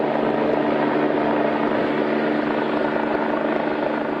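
A helicopter hovers low over the sea during rescue training, its rotor downwash producing a loud, continuous roar and rushing wind with a steady underlying thump.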